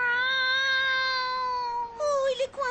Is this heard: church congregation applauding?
no